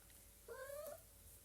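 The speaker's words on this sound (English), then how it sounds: "bear with the cats in the background" A single drawn-out cat meow in the background, faint and somewhat distant, rising slightly in pitch before trailing off over a low room hum.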